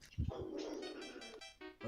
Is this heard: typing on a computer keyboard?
no